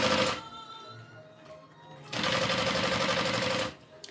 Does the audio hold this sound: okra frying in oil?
no